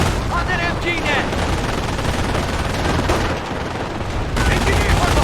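Dense gunfire and heavy artillery blasts from the World War II strategy game Company of Heroes, machine-gun bursts and booms overlapping in a loud, continuous battle din, with shouted voices mixed into the chaos.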